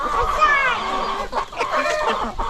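Chickens and chicks cluck and peep close by on a farm, a busy run of short, overlapping calls with no pause.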